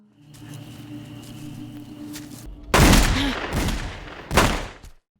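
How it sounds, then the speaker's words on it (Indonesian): Several gunshots in a film, with a tense humming score first, then a dense burst of loud, sharp shots, a short lull and one more sudden shot before the sound cuts off. "Helen menembak iblis itu beberapa kali."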